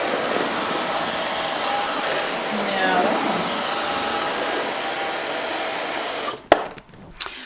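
A JIMMY JV9 Pro Aqua vacuum cleaner with a rotating brush runs on a parquet floor, a loud steady whine and roar that cuts off sharply near the end, followed by a few knocks.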